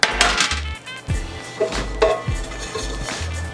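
Metal pan clattering and scraping against a kitchen counter or stovetop, several close knocks and rattles in uneven rhythm, loud and without talk.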